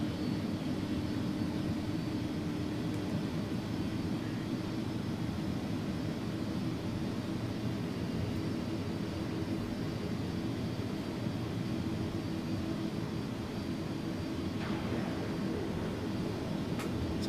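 Simulated Airbus A300 jet engines spool up to takeoff thrust in X-Plane 11, a steady, loud, broadband roar with a low droning hum that holds unbroken throughout, with no talk.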